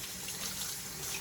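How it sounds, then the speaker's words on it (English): Swiss chard greens rinsed under a running kitchen tap make a steady, close hiss and splash of water for a short moment, with no voices. "And I'm rinsing them before I do any cutting or tearing."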